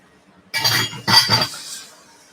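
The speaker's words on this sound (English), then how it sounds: "Okay, so now I want to mix the fragrance in there" Fragrance being stirred into soap batter in a container, two quick bursts of clinking and scraping against the vessel, close and fairly loud, then fading.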